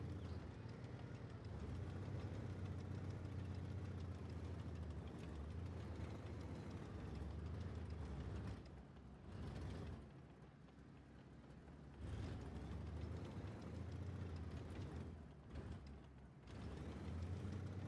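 A heavy tank engine boosting in a tank battle video game, a low sustained droning rumble with grinding, rising and falling in bursts over the length of the clip.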